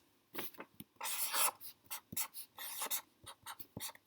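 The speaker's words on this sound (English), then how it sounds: "So I'm going to write my equation." Pen or pencil scratching across paper while an equation is written out, close and fairly quiet, in short irregular bursts of strokes with brief pauses between them.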